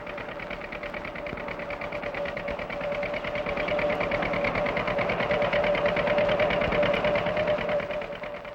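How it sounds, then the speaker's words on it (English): A hay baling machine working in a farm field, a loud continuous mechanical drone with rapid rhythmic clatter and a steady hum, alone without voices. "A baling machine gathers the hay"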